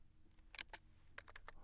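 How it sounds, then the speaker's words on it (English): Someone typing on a computer keyboard: a short, faint burst of scattered keystrokes, irregularly spaced, over a low background hum. "I'm going to type in Pearl Harbor score"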